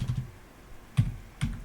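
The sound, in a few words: typing a gcc command on a computer keyboard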